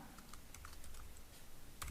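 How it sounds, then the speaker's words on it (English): Keys are tapped on a computer keyboard for a short burst, a few light, irregular clicks close by, faint and without talk. "Now if I start typing,"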